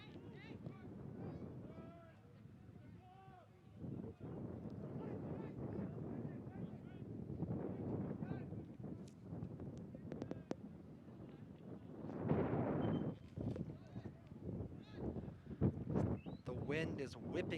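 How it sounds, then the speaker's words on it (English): Wind gusting at an outdoor track and field stadium during a men's soccer match, a steady rushing buffet on the microphone that swells around the middle, with commentators talking over it throughout. "wind is whipping around still here at King Track and Field Stadium"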